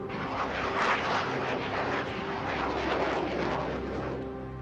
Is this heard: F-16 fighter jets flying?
yes